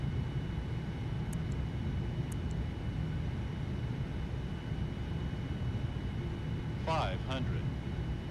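A Boeing 787-9 on approach in the FSX flight simulator gives a steady, dense jet engine roar that holds at one level throughout, with brief cockpit tones near the end.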